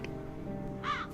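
Crows caw in The Dark Eye: Chains of Satinav, a short harsh call rising near the end above a steady low game music bed, no voices.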